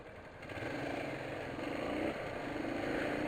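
A large motorcycle's engine runs in city traffic as a steady, low rumbling drone mixed with road and wind noise, continuous and fairly loud throughout.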